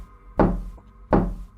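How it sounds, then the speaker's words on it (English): Two slow, heavy knocks on a living room window, spaced well apart, close and resonant, each with a short booming decay in an otherwise quiet room. "eventually there were 3 slow knocks on the living room window"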